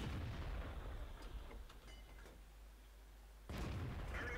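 A T54E1 tank gun fires in World of Tanks, a deep boom with a rumbling tail that fades away before a second loud blast strikes near the end.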